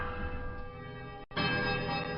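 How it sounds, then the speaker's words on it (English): Temple bells in Pillars of Eternity ring together as a sustained, layered chime, sounding loud and dense throughout, with a brief drop to near silence midway before the full bell tones return. "There's a quiet melodic chime from all 3 bells before their discordant voices meet in one powerful rising rush of sound"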